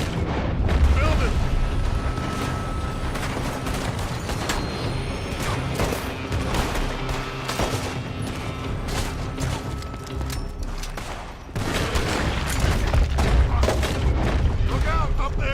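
Gunfire from a building in Red Dead Redemption 2, repeated sharp shots and booms over a busy background, with shouting voices throughout.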